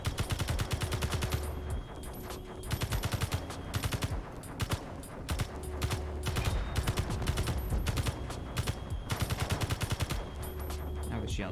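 Rapid bursts of turret gunfire from a spaceship in the Space Engineers video game, loud and sustained, with repeated rattling volleys.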